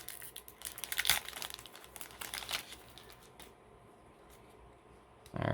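A Time Spiral Remastered Magic booster pack's foil wrapper crinkles and tears close up for several seconds, then fades into quiet before a louder rustle at the end.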